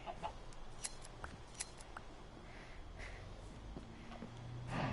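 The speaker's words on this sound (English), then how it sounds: "How did a chicken get in here?" Minecraft chickens cluck in short bursts within the video game, fairly faint and scattered over a low background hum.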